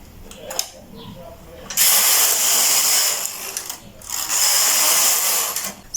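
Carriage of a knitting machine swept across the needle bed knitting plain rows, loud rasping mechanical whooshes in two long passes with a brief pause between, preceded by quieter clicks.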